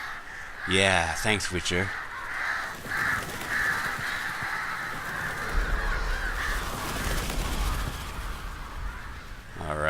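Crows cawing in The Witcher 3, harsh repeated calls loud at the start and then fainter over steady ambient game sound and low rumbles, with someone talking over it.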